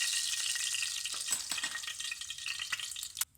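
Lamb shanks brown in hot oil with a steady, broad sizzle and frying hiss, broken by a few faint clatters and a sharper knock near the end, with no talking.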